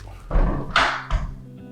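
A homemade porthole door for a crèche is swung shut during testing, giving a few quick hollow thunks and a knock within a couple of seconds, close and fairly loud with no voices.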